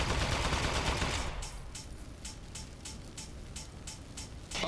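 Rapid automatic gunfire from the weapon in the video game Aperture Desk Job: a dense, loud volley at first, then a steady series of sharp individual shots spaced about a third of a second apart.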